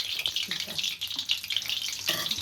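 Onion bajji frying in hot oil crackle and sizzle up close in uneven bursts of bright, spitting noise, with short pops rising over a steady hiss.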